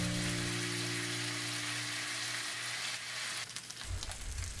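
A marinated pork chop fries in a pan of oil over high heat with a loud, steady sizzle that roughens toward the end, and no one talks.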